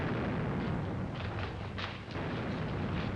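Gunfire in a 1938 black-and-white drama makes a dense, continuous roar of rumbling blasts and bursts that stays fairly loud and steady throughout.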